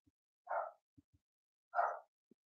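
An old dog gives two short, separate barks, close and fairly quiet, against near silence with a few faint clicks.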